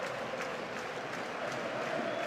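Distant football stadium crowd at a Germany v England World Cup qualifier in 2001, a steady far-off roar with scattered clapping held at an even level throughout.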